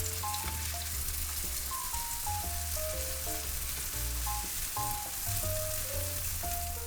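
A tofu pancake sizzles steadily in a frying pan, a continuous crackling hiss at close range under soft background music, with no talking.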